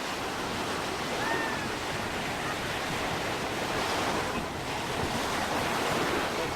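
Steady ocean surf rolls in continuously with strong wind buffeting the microphone, a broad unbroken wash of waves at the shore with no pauses.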